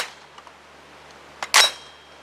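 A Brownells BRN-10 rifle fed from a C Products steel magazine fires and cycles, a small click followed by one sharp, close report that fades quickly into quiet, with no talk.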